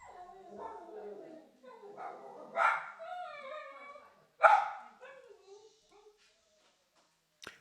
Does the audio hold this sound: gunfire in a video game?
no